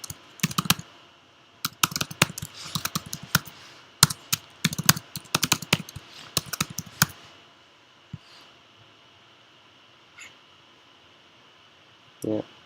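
Someone types a password on a computer keyboard in quick bursts of close, crisp key clicks, then pauses with a few isolated taps and a faint thump near the end.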